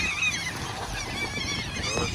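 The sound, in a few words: bird honking on the Kingston waterfront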